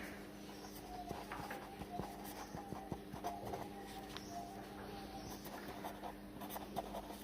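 Quiet writing on a board or paper during a class 9 maths lesson, heard as faint, steady scratchy strokes over a low background hum.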